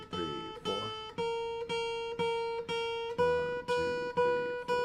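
A guitar plucks the first string at the fifth fret in an even series of about nine close, clear notes, each one ringing briefly before the next pluck, in a steady practice rhythm with no talking.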